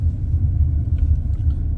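A car engine rumbles low and steady while the vehicle is being parked at a visitor lot near a historic fort, a close, continuous drone with no talking.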